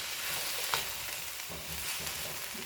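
Beef, vegetables and rice stir-fry together after rice vinegar has partly evaporated, a continuous crackling sizzle punctuated by scraping tosses and occasional knocks, close and steady with no voices.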